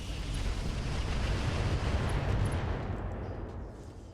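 Artemis missile weapons firing on a mech in the RogueTech BattleTech mod, a loud, continuous broadband roar of launches and blasts that fades slightly toward the end.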